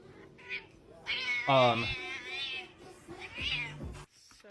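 Several cats meow in turn, drawn-out, whiny calls rising and falling at close range, with quiet gaps and small shuffling noises between them.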